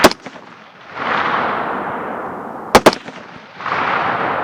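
Several sharp 6.5 Creedmoor rifle shots fired at hogs with Hornady 143 ELDx ammunition outdoors, each loud crack followed by a long rolling echo, two shots fired in quick succession.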